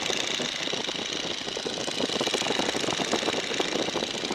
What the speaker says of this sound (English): That is one powerful little engine